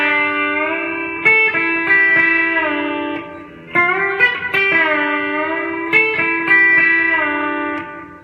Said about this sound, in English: Then come back to the B string that's still bent and let it down.